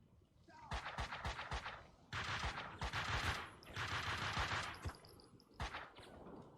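Bursts of rapid gunfire from the video game Max Payne 2, sharp automatic volleys coming in several clusters separated by brief pauses, fairly loud and close.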